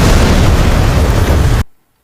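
Big anime explosion from a holy sword ultimate attack, a loud roaring blast filling the clip for about a second and a half and then cutting off abruptly into silence.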